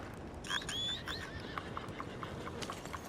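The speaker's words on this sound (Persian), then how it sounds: "اسب ببینید که اومدش. اینم از اسب سیاه عربی هن" A black Arabian horse in Red Dead Redemption 2 lets out a rising whinny, then its hooves clip-clop in a steady trotting rhythm, moderately close over a low ambient background.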